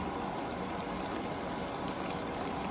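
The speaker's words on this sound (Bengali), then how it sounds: "চুলাতে তেল গরম করে পেঁয়াজগুলোকে হালকা করে ভেজে নেব" Onions frying in hot oil on a stovetop, a steady, even sizzle and crackle holding at constant loudness throughout with no talking.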